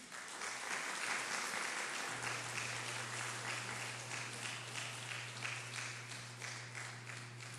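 Church congregation applauding at a Sunday worship service, a dense steady wash of many hands clapping throughout, with a sustained low instrumental tone entering partway through.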